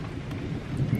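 Steady rain falls outdoors with a low, rolling rumble of thunder, a continuous dense wash of sound with no voices.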